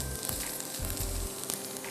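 Onion and garlic sauté in a non-stick pan with little or no oil, giving a soft, steady sizzle with faint stirring bumps underneath.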